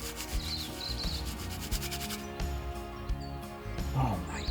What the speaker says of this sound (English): I'm going to give these guys a rub fresh in the field